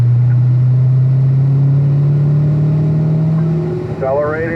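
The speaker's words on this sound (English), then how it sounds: "Accelerating up the hill." A car on the Spring Mountain Motorsports Resort race track accelerates uphill, its engine droning loud and steady with a rising pitch. A voice briefly cuts in near the end.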